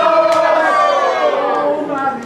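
Crowd noise at a live wrestling show in Bury St Edmunds during a women's championship bout: a steady, dense wash of cheering and chanting voices that holds at full level throughout and sits close around the ring.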